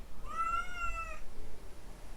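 A single drawn-out cat meow, clear and fairly close, rising then falling over about a second before trailing into quiet room noise.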